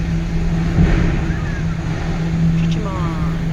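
A car rolls off a ferry at Tobermory onto land, its engine a steady low hum with a faint rising whine under continuous background rumble and voices.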